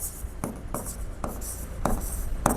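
Chalk or marker writing on a board during a maths lecture, giving scratchy strokes with regular sharp taps roughly every half second, close and steady, with no talk over it.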